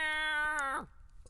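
A single long, drawn-out cat meow, near and fairly loud, holding a steady pitch before sliding down and fading into quiet room noise.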